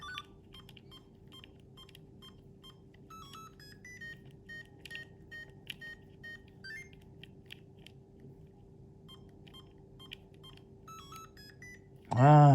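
A Game & Watch Mario vs Donkey Kong handheld gives out a run of short electronic beeps and chirpy blips in quick, uneven patterns over a low steady hum, ending in a sudden loud burst.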